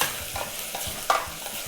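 Beef for Polish goulash browns in a pot with salt, bay leaf, allspice and peppercorns, giving a steady close sizzle broken by a few soft stirring scrapes.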